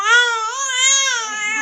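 A child cries in one loud, close, continuous wailing sob that rises and falls over about two seconds, with no talk over it.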